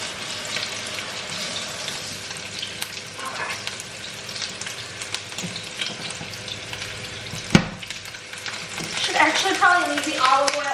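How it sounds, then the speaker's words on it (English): Meatballs sizzle away in olive oil in a skillet with a steady frying crackle, broken by a sharp clack partway through and some faint kitchen noise toward the end. "But here they are, just sizzling away."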